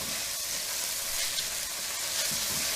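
Stroganoff sauce thickened with cornstarch sizzles in a hot pan while being stirred, a steady close frying hiss with faint scraping movements and no talk.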